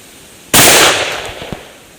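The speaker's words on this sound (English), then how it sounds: "Fire some older stuff here and see if it does go bang." An old shotshell fired from a shotgun: one sharp, loud bang that rings out into a decaying tail, with a small click just after and no talk.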